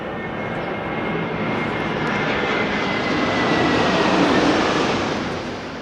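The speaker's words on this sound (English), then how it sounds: "We are right by the airport and there are planes" An airplane passes overhead near an airport, its loud, steady engine roar slowly building and then easing off over several seconds with no talking.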